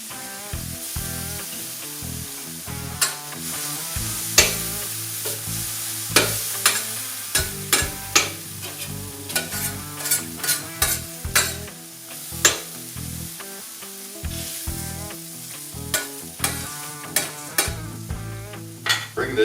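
Meat, onions and peppers fry on a Vevor 22-inch 1600W electric flat top griddle, a continuous loud sizzle broken by frequent sharp metal spatula scrapes and taps in an irregular rhythm.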